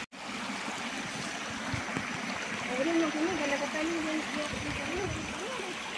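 The Sungai Batu Putih stream on Gunung Jerai flows in a steady, broad rush of water that holds even from start to end, with a faint murmur of voices underneath.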